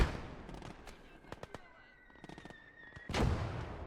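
In the game Gates of Hell Ostfront, explosions and sharp cracks of battlefield fire come in clusters, with a heavier blast near the end over a low rumbling background.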